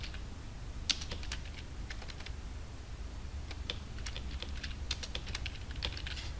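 Fingers type on a computer keyboard, with steady, close clicking keystrokes in quick bursts and short pauses over a low background hum.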